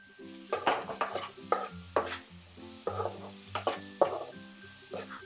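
Onions frying in a pan for an egg masala curry, a steady sizzle broken by repeated rhythmic scrapes and clinks of a spoon stirring against the metal, close and clear.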